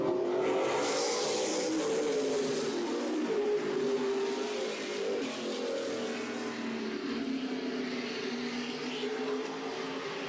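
Race cars on a short oval track at a Thursday night event, their engines roaring steadily and loudly as they pass, the pitch sliding as they go by, with no talk heard.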